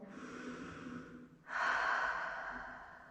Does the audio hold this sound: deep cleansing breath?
yes